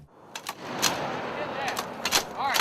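Soldiers fire rifles during Army basic weapons training, several sharp cracks spaced irregularly, some near and some farther off, with a voice shouting among the shots.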